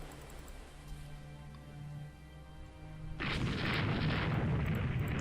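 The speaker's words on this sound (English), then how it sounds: "Well, just the 6-inch guns. But at least they're firing." Naval 6-inch guns fire in the naval strategy game Rule the Waves 2, a sudden heavy boom cutting in partway through and rolling into a sustained loud rumble after a quieter stretch of low ambient hum.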